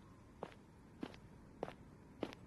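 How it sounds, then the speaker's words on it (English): Four slow, evenly spaced footsteps on a hard street at night, each a distinct soft thud, close and solitary against a quiet background with no talking. "the sound of your own footsteps"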